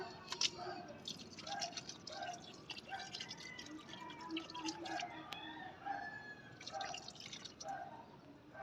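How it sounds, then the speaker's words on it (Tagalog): Probiotic liquid is poured into a fermenting mixture, giving soft irregular drips and trickling splashes close by at a low level for several seconds. "Lalagyan ngayon natin siya ng probiotic."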